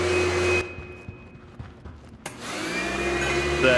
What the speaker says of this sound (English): now we've got the vacuum cleaner